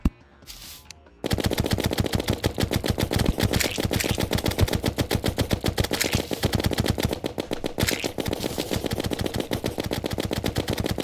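Rapid automatic gunfire from a weapon in the game Terraria, a dense continuous stream of sharp shots firing almost nonstop for about ten seconds after a short quiet start, loud and up close.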